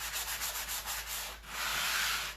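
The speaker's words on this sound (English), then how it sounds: "Now I sand for a couple of reasons." Sandpaper rubbed over a painting surface in quick back-and-forth strokes, a close, steady rasp that pulses with each pass, then smooths into one longer continuous scrub.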